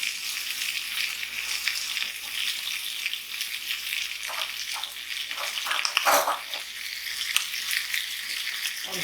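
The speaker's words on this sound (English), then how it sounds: "You want it to just sizzle and fry." Homemade bacon sizzles and fries steadily in a pan, a close, crackling hiss with scattered pops and occasional stirring clatter.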